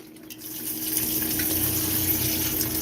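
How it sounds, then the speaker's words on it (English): Bone broth poured into a cooking pot, a steady liquid gush that starts after a brief pause and runs evenly to the end, close and moderately loud. "So I'm pouring all the bone broth in."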